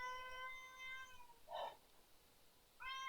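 A pet cat meows indoors, a long drawn-out harmonic call followed by a brief sharper chirp and the start of another meow, fairly close and clear against a quiet room, no talking.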